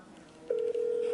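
A phone places a call: half a second of quiet room noise, then a single steady ringback tone starts and holds to the end, close and clear.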